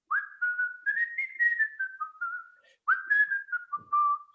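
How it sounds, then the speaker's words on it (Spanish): Solo human whistling of a melody by a Bolivian tenor: clear, pure sustained notes gliding up and down in two phrases with a short pause between, close and alone with no talk. "El método es siempre el silbado."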